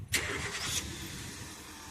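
A car engine cranks and catches with a brief whirring start, then settles into a steady, fairly quiet idle rumble, heard up close without voices.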